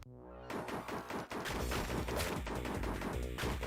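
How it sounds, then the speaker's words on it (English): Rapid, continuous gunfire from a tank in the video game Whatta Horrible Year, dense bursts of shots over busy game sound, loud and sustained with no talking. "Like, I'm shooting all the time."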